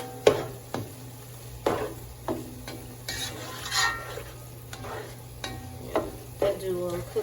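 Ground chicken with red pepper cooks in a pan, a soft steady sizzle broken by repeated scraping stirs of a utensil against the pan, close and fairly quiet.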